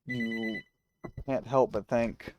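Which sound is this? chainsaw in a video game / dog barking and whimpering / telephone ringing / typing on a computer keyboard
telephone ringing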